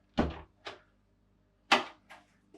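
A door aboard a Balance 580 catamaran swings shut and latches, giving two pairs of close, sharp knocks and clicks with quiet gaps between them.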